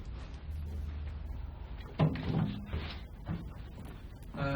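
A kitchen drawer slides open, a short wooden scrape and knock that rises above the faint room noise and low background hum, followed by a few softer rattling clunks.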